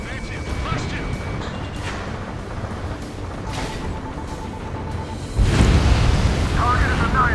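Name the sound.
oil tank explosion in the video game Ace Combat 7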